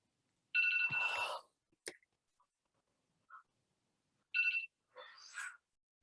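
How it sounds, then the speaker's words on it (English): A phone's ringtone sounds in two short bursts of bright electronic ringing, separated by quiet gaps with a few faint clicks and chirps, heard close in an otherwise silent room. "I have to reach far away to turn off my phone"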